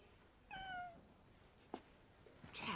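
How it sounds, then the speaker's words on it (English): A cat gives a single clear, fairly close meow, followed by faint rustles and a short knock in an otherwise quiet room. "it's her blessed cat"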